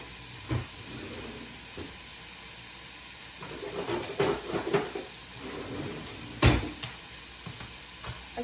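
Ground meat for zuppa toscana sizzles and fries in a pan while a tool stirs and scrapes through it, with occasional louder clatters against the pan, close and continuous.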